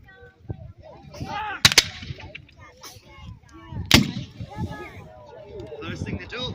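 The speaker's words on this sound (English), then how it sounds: "these lads are firing the breech rifle, loading, the sharps rifle rather" Sharps breech-loading rifles fired at a Civil War reenactment: two loud, sharp reports about two seconds apart, heard close over steady talk and outdoor crowd noise.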